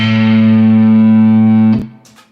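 A single sustained A note on an electric guitar through an amplifier with distortion, held loud and steady for nearly two seconds before being cut off, leaving a brief faint tail.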